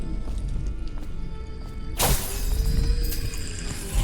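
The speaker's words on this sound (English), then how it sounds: "I don't want anyone hearing the noise of me breaking any glass" A sharp shattering crash of breaking glass in the stealth video game Dishonored bursts in loudly, then a bright scattering of shards trails off over steady game ambience.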